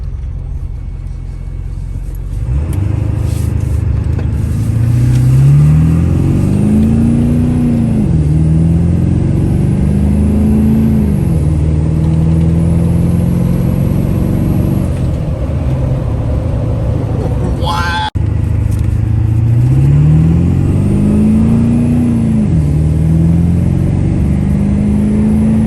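A 7.3 Powerstroke diesel truck drives down the road, its engine droning loud and steady with rising pitch sweeps as it accelerates and shifts through gears, heard from inside the cab.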